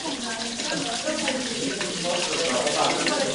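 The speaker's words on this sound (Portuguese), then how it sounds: "Com a força da gravidade, a água chega até essa torneira improvisada, que movimenta o moinho" Water from an improvised gravity-fed tap pours steadily onto a water-wheel mill, a continuous rushing splash throughout with a faint voice in the background.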